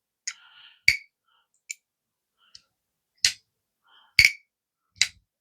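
A titanium-scaled Miguron Moyarl knife gives a series of sharp, close metallic clicks at uneven intervals, about seven in total, each one crisp and brief with silence in between.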